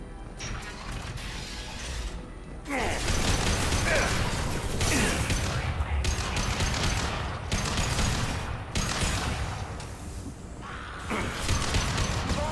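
Armor-piercing gunfire in the Mass Effect 2 game: rapid bursts of mechanical, clattering shots that come in repeated loud volleys with short pauses between them, close and dense.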